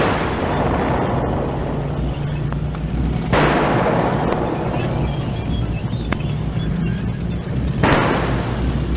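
Shells fired at advancing tanks in a wartime radio drama boom out as two sharp, loud bursts amid a constant heavy rumble of battle noise.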